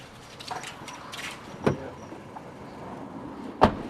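Early on a Sunday morning, a car pulls up outside and idles, with a soft whir like a power window lowering and two sharp clunks, all moderately quiet and without voices.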